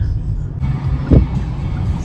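Car interior rumble while driving along Upper Gauge Avenue in Hamilton, a steady low drone with a brief louder thump near the middle, the road otherwise quiet.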